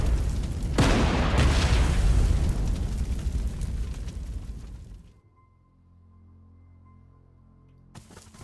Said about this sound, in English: Now my over powerful gun will fire